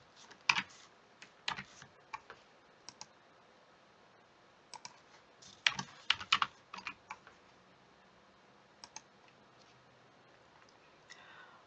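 Keys clatter on a computer keyboard as a map title is typed, with irregular bursts of sharp clicks separated by quiet pauses, close and clear with no voices.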